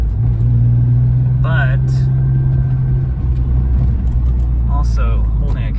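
A 1991 BMW M5 engine drones steadily while driving on cold oil, held well short of high revs. The rumble runs under a voice and shifts pitch partway through.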